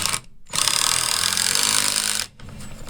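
A power drill drives a screw into wood in a loud continuous whirring burst lasting nearly two seconds, framed by brief pauses with a quieter motor hum before and after.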